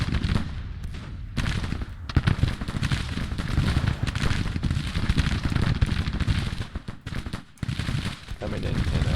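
Civil War battle in the game Grand Tactician, with dense, crackling rifle fire and booming artillery from Richmond Howitzers rolling continuously, loud and near, with a voice speaking over parts of it.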